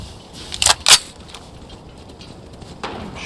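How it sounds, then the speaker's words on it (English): Gunfire in Fallout 4, two sharp loud bursts close together near the start, then a fainter hit a couple of seconds later, with no talking. "I'm shooting."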